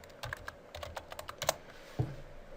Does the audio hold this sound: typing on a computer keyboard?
yes